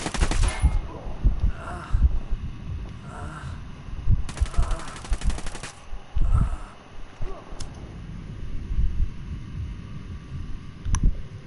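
Gunfire in the tactical shooter Rainbow Six, firing in loud bursts and a sustained volley amid in-game clatter, with voices talking between the shots.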